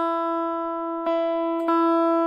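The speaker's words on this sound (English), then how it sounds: "when I hit the high E string, I can hear that's too sharp. So I loosen the string." A high E guitar string rings as a sustained, steady tone while being tuned down from sharp, with two brief plucks or taps at about one and 1.7 seconds and no talking.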